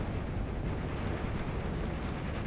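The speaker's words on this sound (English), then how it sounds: "so more artillery happening." Artillery fire in the WWII strategy game Steel Division: Normandy, heard as a dense, continuous rumbling barrage of overlapping booms at steady loudness, with no voices.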